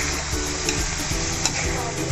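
Orek tempe, tempeh frying in a pan, gives a steady, close, busy sizzle with stirring scrapes throughout.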